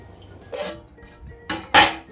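Metal lid placed onto a cooking pot of biryani, a few short clanks and clatters, the last two louder and close together, with no talking.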